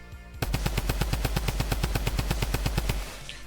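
The Mythic Midas drum gun in Fortnite fires a rapid, sustained burst of about twenty evenly spaced loud shots over roughly two and a half seconds, then stops.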